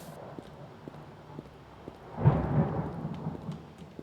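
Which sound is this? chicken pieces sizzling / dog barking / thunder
thunder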